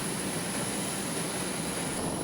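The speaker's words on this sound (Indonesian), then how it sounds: "Simulasi di hari kedua menampilkan pesawat asing yang dipaksa mendarat" An aircraft engine drones steadily from a distance during a military exercise in which a foreign plane is forced to land, a faint, even roar with a thin high whine and no voices.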